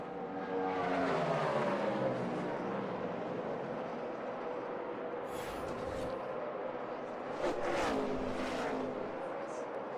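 NASCAR stock cars race at the 2010 Kobalt Tools 500 as one passes another, with loud engine roars rising and falling in pitch, fading in and out as cars sweep by and crowd noise swelling underneath.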